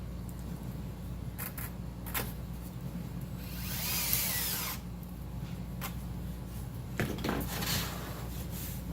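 Power drill driving two screws into a terminal strip, with steady whirring runs and a louder rising burst midway as a screw seats, close up, without speech.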